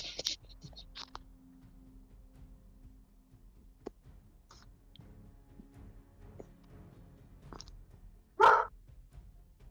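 A puppy named Wolf gives a few sharp, brief barks and yips in a quiet room, one louder bark near the end standing out against faint background noise.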